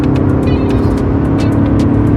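A 2021 Ford F-150 King Ranch hybrid pickup accelerates hard, giving a loud, steady engine roar with road and wind rumble heard from inside the cab.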